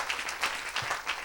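A church congregation claps in applause at an evangelistic service, a short burst of dense, steady clapping from many hands in a reverberant hall.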